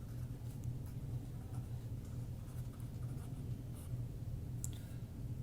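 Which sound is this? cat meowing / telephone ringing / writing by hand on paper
writing by hand on paper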